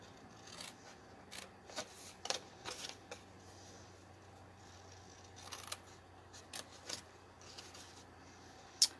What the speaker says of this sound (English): Now we're going to cut just like we did on the opposite side